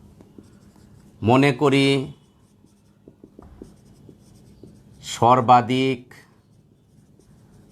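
A pen scratches steadily across paper while notes are handwritten during an online physics class, the faint continuous writing running close and quiet between two short bursts of talking.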